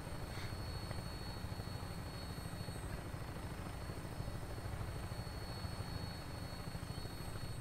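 An aircraft pursuing the player in the video game Fallout 4 makes a steady whirring drone with a rotor-like hum, holding at an even moderate level throughout without voices.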